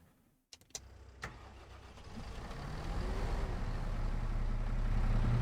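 A Massey Ferguson tractor engine in Farming Simulator 25 cranks over after a few sharp clicks, then settles into a rumbling idle that swells steadily louder and heavier, heard alone without talk.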